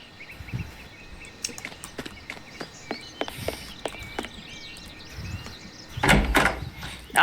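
A door is opened in the video game Sherlock Holmes: The Awakened. Light clicks and taps lead to a louder creaking, scraping burst near the end, heard close over a quiet ambient background with no talking.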